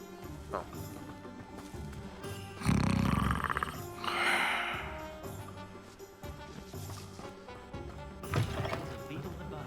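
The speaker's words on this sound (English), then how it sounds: "Oh, snoring." A character snores in a Harry Potter–style video game, two or three loud, rasping inhalations rising and falling over a few seconds against a low musical game background.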